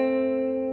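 A single guitar note, C on the second string at the first fret, rings clear and steady for under a second, close and fairly quiet with no talking.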